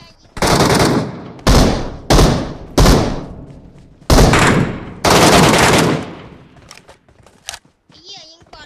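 Loud, close bursts of automatic gunfire in the shooter game Metro Royale, in about six separate volleys of rapid shots with short pauses between them, a few quieter sounds at the end.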